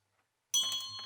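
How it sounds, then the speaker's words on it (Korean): An old church bell is struck once after a moment of silence, giving a bright metallic clang that rings on with a sustained, shimmering tone. "종소리를 울렸지요."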